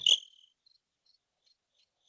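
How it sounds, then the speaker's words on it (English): A cricket gives one sharp, bright chirp at the start. A few much fainter, choppy chirps follow in near silence, as if the sound were cut off by noise gating. "that was crickets"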